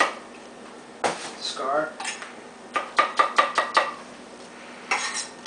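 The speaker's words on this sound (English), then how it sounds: "We're going to give this a chop all the way around." Knife chopping an apple on a cutting board, a quick burst of six or seven close, crisp taps, with a few scattered knocks and kitchen clatter before and after. Quiet background, no talking.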